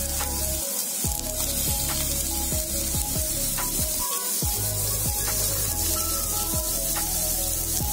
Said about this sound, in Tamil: இப்போ இந்த ஸ்ப்ரெட் பண்ண கீ மேல நான் வந்து கட் பண்ணி வச்சிருக்க பைனாப்பிள் சேர்த்துக்கிறேன்